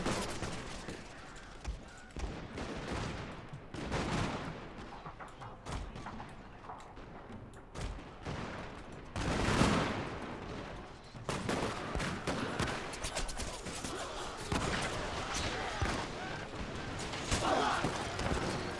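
Dense enemy gunfire in a Shogun 2 Total War battle: ragged volleys and scattered musket shots crackle continuously, with heavier bursts and thuds, under a busy din of battle noise.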